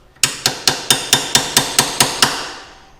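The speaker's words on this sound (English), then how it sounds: "So we're going to take the Wera striking cap screwdrivers" A Wera striking-cap screwdriver is hammered against a dust cap on a Wright lawnmower: ten sharp metallic strikes in a steady, quick rhythm, each ringing briefly, close and loud, with no talking.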